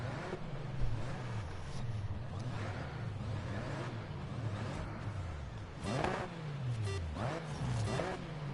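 A Beltra open-wheel race car engine in Grid Legends drones steadily, its pitch rising and falling with gear changes, moderately loud, with a few sharper shifts near the end.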